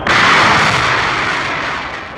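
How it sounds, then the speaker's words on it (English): Project Mercury escape rocket firing to pull the capsule away from an Atlas booster, a loud sudden roaring blast that holds briefly, then slowly tapers. "The escape rocket takes the capsule away from the booster."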